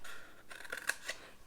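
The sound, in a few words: cutting score lines in paper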